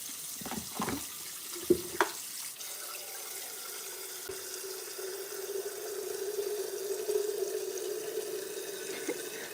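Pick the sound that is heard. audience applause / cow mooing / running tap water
running tap water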